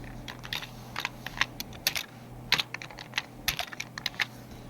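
Typing on a computer keyboard while working in Photoshop: quick, uneven bursts of close key clicks and taps against a low steady hum, with no voices.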